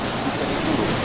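Ocean waves break continuously at a surf contest in Rio de Janeiro, a dense, loud wash of white noise with no distinct individual crashes.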